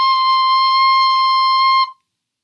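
A clear, pure note C sounds on a small fingered wind instrument, held steady and loud for about two seconds before stopping cleanly, alone without any voices.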